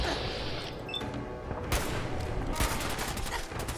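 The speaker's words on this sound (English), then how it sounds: "Oh no, I've got a bloody machine gun" Fallout 4 super mutant firing a machine gun, dense bursts of gunfire that swell and thicken partway through over a continuous background roar.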